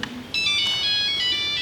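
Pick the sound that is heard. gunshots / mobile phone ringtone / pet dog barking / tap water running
mobile phone ringtone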